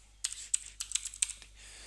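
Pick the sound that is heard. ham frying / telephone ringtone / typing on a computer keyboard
typing on a computer keyboard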